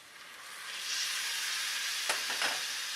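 Minced meat (keema) sizzling and frying in a pan of cooked spices and oil, a steady close hiss that swells after a second, with a few soft stirring scrapes near the end.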